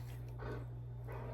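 A dog indoors gives two muffled barks or yips about a second apart, moderately close, over a steady low electrical hum.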